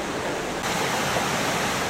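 Bubbling springs at the base of Mount Shasta on its south side, feeding the headwaters of the Sacramento River, heard as a steady, broad rush of flowing water, close and continuous, with no voices.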